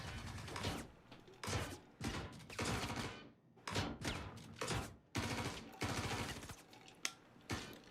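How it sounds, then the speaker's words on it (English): Bursts of rapid gunfire in a video game, loud volleys and sustained automatic fire repeating in clusters with short gaps between them, with no talking over it. "They're just shooting everywhere."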